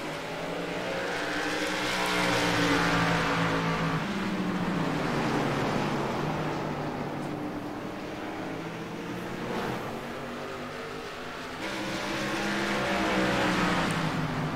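Simulated race cars in iRacing battle at Thompson, their engines droning loudly and steadily with rising and falling pitch as they work through the laps.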